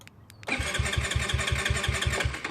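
A GY6 scooter engine fires up by remote start after a brief quiet moment, then settles into a loud, steady, rapidly pulsing idle close by.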